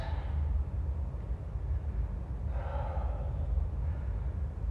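Slow, deep breathing during a power yoga session, a long audible exhale near the start and another drawn-out breath midway, close and steady over a soft background hiss.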